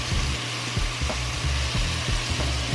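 Chicken and rice cook in a single pot with a steady, loud sizzle and a low, rhythmic bubbling pulse underneath, with no voices.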